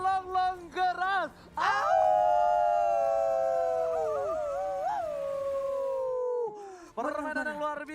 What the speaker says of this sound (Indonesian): Serigala melonglong keras.